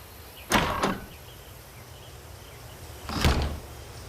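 A door in the VR game Fruit Ninja 2 slides open with two separate whooshing swings, each a short swelling rush about two and a half seconds apart, over a low steady background.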